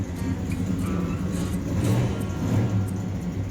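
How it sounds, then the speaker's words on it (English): A black 1966 Dodge Coronet engine idles in a steady, low rumbling drone, close and continuous throughout with no talking over it. "the cars, built for speed, like this black '66 Dodge Coronet"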